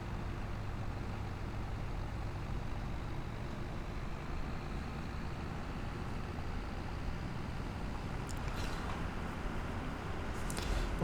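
Steady low engine drone of a farm vehicle driving in Farming Simulator 25, a continuous, even rumble at moderate level with a few faint clicks near the end and no talking.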